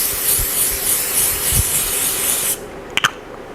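Aerosol sunscreen spray misted steadily onto a face after makeup, a continuous close hiss lasting a few seconds before cutting off, followed by a couple of small clicks.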